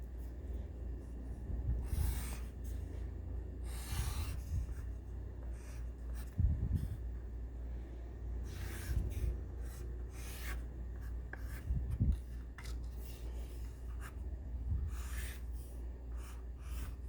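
A pencil sketching a clownfish on paper: repeated short scratchy strokes in bursts every couple of seconds, close and fairly quiet, with soft breathing between them.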